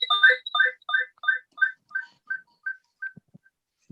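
An iPhone ringtone chimes in a rapid repeating pattern of bright tones during an online class, fading out after about three seconds, followed by a few faint soft knocks.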